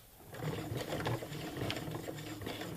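A sewing machine stitches fabric for a drawstring bag in a short run of a few stitches, giving a close, steady mechanical whir with a rapid rhythmic clatter throughout.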